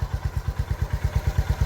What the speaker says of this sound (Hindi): अब गाड़ी बाइक स्टार्ट करो और इसको पहले गियर में एंगेज करो।